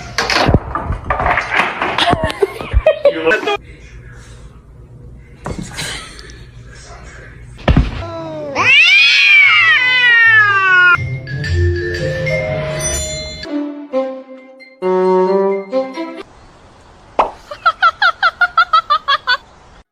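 Kittens meow in several drawn-out, rising-and-falling cries in the second half. Before them come sharp thumps and clatter, and someone talks at times.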